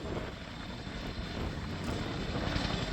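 An RAF Chinook HC.6 twin-rotor helicopter roars through a flying display manoeuvre at an air show, with a loud, steady rotor and engine drone and no talk.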